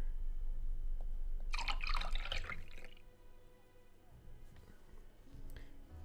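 Water is poured into a cup in the video game Culpa Innata, a short bright splashing pour lasting about a second, then faint drips over a low background hum.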